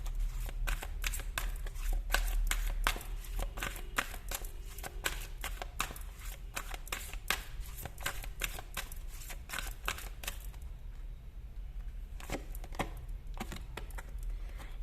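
Tarot cards being shuffled by hand, a rapid run of crisp riffling flicks and taps, close and fairly quiet, continuing in bursts with short pauses and no talk.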